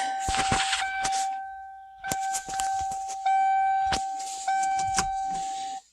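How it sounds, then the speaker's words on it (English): A 1992 Mercury Topaz / Ford Tempo sounds its headlight warning chime, a steady high electronic tone broken by metallic clicks and clunks from work on the headlight switch, close and fairly loud. "the headlight chime comes on"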